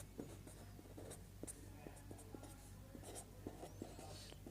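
Pen scratching on paper in short strokes and taps, faint and close, with a steady low hum and a quiet voice murmuring faintly beneath.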